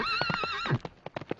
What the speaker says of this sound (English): they heard his horse galloping away